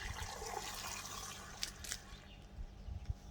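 Water runs steadily from a tap with good pressure, a soft, continuous hiss and splash at low level with a few brief drips and splashes near the end.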